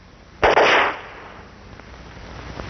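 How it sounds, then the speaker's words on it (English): A string of perforating charges fires inside an oil well casing: one sudden loud broadband burst that holds for about half a second, then drops into a low lingering rumble. "We do it by firing a string of specially designed charges."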